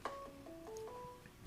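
A mobile phone chimes in a quiet room, a short tonal melody of a few stepped notes that is faint and close, heard alone.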